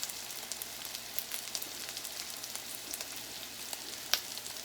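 Sausages sizzle and fry in a pan with a steady, fairly quiet crackle and occasional pops, one sharper spatter standing out near the end, no talking over it.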